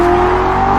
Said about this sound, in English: Chris floored the gas pedal straight to City Hall.